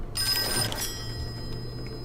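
An old-fashioned telephone bell rings inside the Call of Cthulhu video game, one bright ringing burst that cuts off and leaves a low ambient hum behind it.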